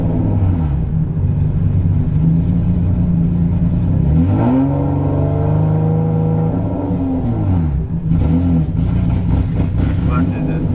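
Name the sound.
cammed Infiniti G35 engine running with random misfire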